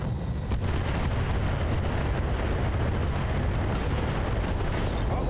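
BattleTech weapons fire and explosions create a dense, continuous barrage of booming blasts and crackling impacts that rumbles heavily throughout.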